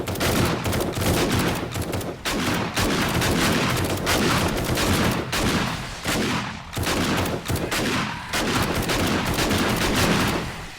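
Sustained, dense gunfire from the video game 7 Days to Die, loud and continuous over about ten seconds, with rapid bursts and brief gaps between volleys and no voices.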